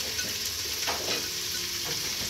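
Onions frying in a pan in a home kitchen, a steady broadband sizzle with faint stirring scrapes, close and continuous with no talk.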